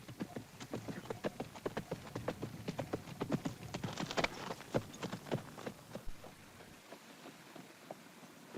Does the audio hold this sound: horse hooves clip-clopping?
yes